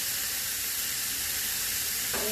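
Homemade kebab meat sizzles loudly and steadily as it heats in a pan, a close continuous hiss with a short scrape of stirring near the end.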